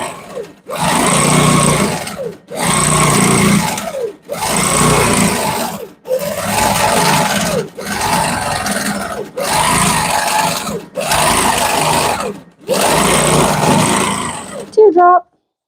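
A sewing machine stitches a quilt in eight loud, close bursts of rapid mechanical whirring, each a second or more long, separated by short pauses, ending with a brief clatter.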